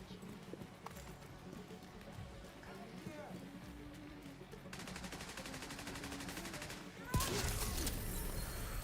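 Gunfire from The Division 2 video game, crackling as rapid bursts under steady game noise and voices, turning into a dense, sustained fusillade in the middle and a louder blast near the end.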